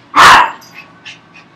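A timid Chihuahua from an animal shelter gives one loud, sharp bark up close, followed by a few fainter, short yips trailing off.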